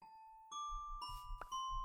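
A chiming doorbell tone in the game Heavens of Sorcery rings out in two or three quick dings, clear and moderately quiet, layered over a faint low thumping.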